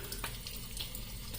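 Tap running cold water into a sink for rinsing, a steady close gush of splashing flow with no voices.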